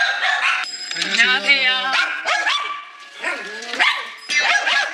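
A Spitz dog barks loudly and repeatedly at people arriving at the house, sharp yips and a drawn-out whining howl mixed with overlapping voices greeting at the door.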